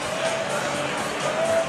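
Large crowd noise in a packed gym at a Friday night high school basketball game, Winnacunnet at Exeter, a steady loud roar with scattered cheers and shouts and squeaking sneakers throughout.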